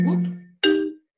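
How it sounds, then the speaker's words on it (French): A mobile phone notification chime sounds twice: a ringing tone, a brief gap, then a brighter second tone, fairly close and clear in a quiet room. "Mon téléphone se met en route."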